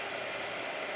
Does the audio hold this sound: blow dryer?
yes